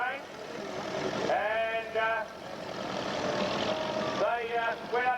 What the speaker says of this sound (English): And the Grey Fergie's going by.